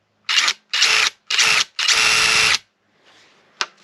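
Craftsman V20 gen 2 brushless impact driver running on speed 3, four loud, close whirring bursts, the last one longest, followed by a faint quieter tail and a brief sharp click.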